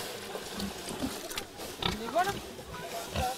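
Pigs grunt and squeal at feeding time on a farm, a busy mix of snorts and higher squeals close by under continuous talk.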